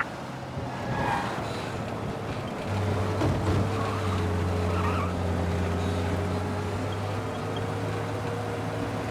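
A car in the game Mafia Definitive Edition drives hard, engine revving while tires screech and skid, the squeal rising midway and continuing over a steady motor roar, loud and close with no talk.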